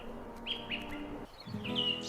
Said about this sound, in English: flocks of small birds gather on thorny bushes before the sun sets